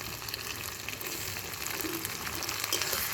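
Chili paste sizzling and frying in a hot pan, a steady broadband crackle throughout with no talking, growing slightly louder toward the end.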